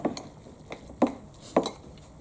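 Tuna and mayonnaise bagel filling stirred in a bowl, a metal spoon clinking against the dish in three or four distinct knocks with scraping between, close and fairly quiet.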